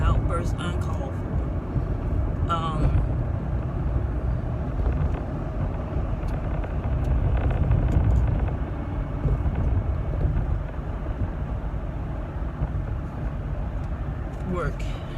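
A car moving through heavy traffic while its driver merges in, giving a steady low road rumble with wind buffeting throughout, and a voice talking over it.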